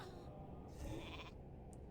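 A sheep bleats once, a wavering mid-volume cry from the polymorph spell in World of Warcraft Classic, heard alone over a steady background hum.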